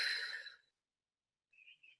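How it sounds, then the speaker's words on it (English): A forceful deep inhale through the nose or mouth, breathy and loud at first then fading out, followed after a pause by a faint, brief second breath, close to the listener. "breathing forcefully in"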